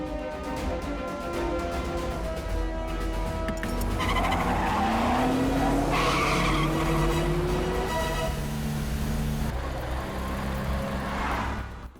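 A car drives fast along a set route with its tires skidding and squealing, a rising screech over loud, steady engine and road noise, with background music throughout.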